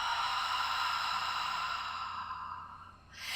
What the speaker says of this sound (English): exhale like you're fogging a mirror out of the mouth